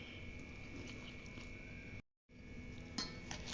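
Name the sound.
mixing mango pickle in a bowl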